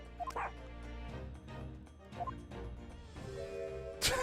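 A dog yips and barks with short whimpering cries over background music in the courtroom adventure game The Great Ace Attorney 2: Resolve, several quick barks spread through the passage and a sharp burst near the end.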